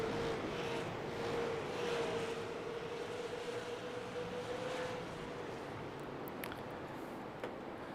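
Steady drone of race car engines in a sim racing game, a continuous pack of cars humming along at speed with one engine tone sliding slightly, no voices.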